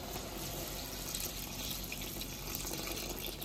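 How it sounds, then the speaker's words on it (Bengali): Water pours steadily into a cooking pot for a fish curry with sing fish and ridge gourd, a continuous close gushing stream with no talk. "জল দিয়ে দেবো।"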